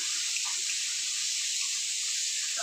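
Hot water is poured into a pan of spicy fish curry cooking with garlic, green chillies and tomato, a steady bright hiss of liquid splashing and sizzling for a couple of seconds, close and fairly loud.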